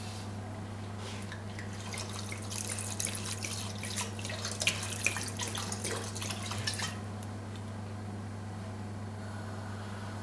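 Riesling wine poured from a bottle into a stew pot for one rabbit, a steady liquid trickle with drips running for several seconds over a constant low hum, close and moderately quiet.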